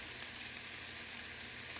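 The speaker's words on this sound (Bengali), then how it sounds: "করলা ভাজিটা আমি একদম লো হিটে ভাজি করতেছি" Sliced bitter gourd (karela) fries on low heat in a pan, a steady, even sizzle with a dense crackling hiss that stays constant and close throughout.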